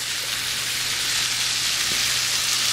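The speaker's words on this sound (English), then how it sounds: "the rice is cooking over" Long grain basmati rice boiling over in a pot on a stovetop, a steady close sizzling and hissing spatter that holds even and continuous throughout.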